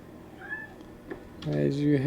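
A cat meows at a distance in World of Warcraft, a short rising call, followed by a louder, more drawn-out meow with rich harmonics toward the end.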